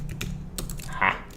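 Quick bursts of keystrokes on a computer keyboard, clattering irregularly and close by, with a short brighter tone near the end.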